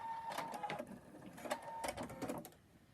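A sewing machine stitches hexagon patchwork pieces in short bursts of rapid mechanical whirring with brief pauses in between, close by, with no speech.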